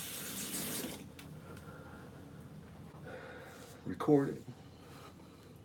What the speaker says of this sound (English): so I just put the water on my hands to rinse everything off